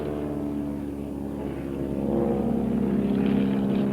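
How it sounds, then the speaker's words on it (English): Converted T-28 training planes flown by Lao pilots in a close air support strike on an enemy hilltop, their propeller engines droning steadily and swelling slightly louder as they pass overhead, with no voices. "These are old training planes, converted T-28s flown by Lao pilots."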